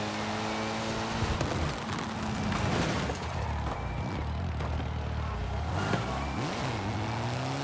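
Time-attack Mitsubishi Evo racing in Forza Horizon 5, its engine droning loud and steady with shifting revs, sharp pops and bangs crackling through, and a dip and sweep of revs near the end.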